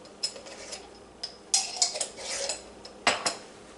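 Coconut raisin bun dough being mixed in a bowl, heard as light clinks and scrapes of a utensil against the bowl in irregular bursts, fairly faint, with no voices.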